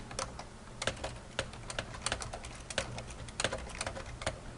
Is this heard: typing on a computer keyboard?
yes